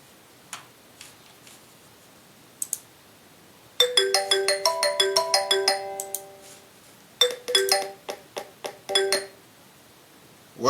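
Phone ringing for an incoming caller on a call-in program, faint ticks then two bursts of repeated electronic chime tones with short gaps, fairly clear and alone.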